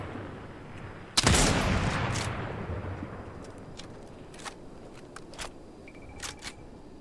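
A single loud sniper rifle shot in the battle royale PUBG cracks out early, then a long decaying echo and a few faint distant pops follow in a quiet outdoor setting.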